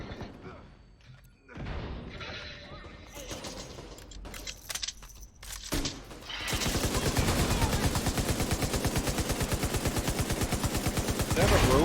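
A heavy gunner enemy in the Division 2 video game fires a long, sustained machine-gun stream that takes over after scattered impacts and mechanical clatter, loud and continuous to the end.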